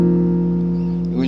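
A guitar chord stacked in perfect fourths in the key of C, held as a steady sustained ring with several clear overlapping notes, close and fairly loud, fading slightly at the end.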